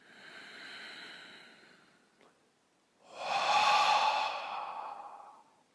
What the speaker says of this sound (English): Sky breath. Breathe in.